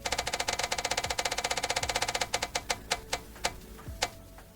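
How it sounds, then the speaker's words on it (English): A to-do list roulette wheel spins with a rapid run of sharp clicks that gradually slows, the ticks spreading farther apart until the wheel clacks to a stop. "I am going to spin the wheel again for tonight's activity"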